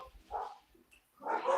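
A dog gives two short barks, a quick pair of yips and then a louder bark, with quiet gaps between them and no talk.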